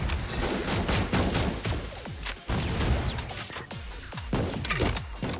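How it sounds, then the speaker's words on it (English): Rapid rifle gunfire from Wakamo's EX skill in the Blue Archive game, a Type 99 Arisaka: a dense, loud volley of sharp shots with crashing impacts and ringing tails, about six cracks in quick succession. "She rapid fires 5 shots out of her gun and then does a 360 spin and shoots 1 more at the target"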